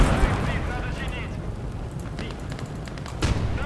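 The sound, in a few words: Molotov cocktail explosion in video game Motherland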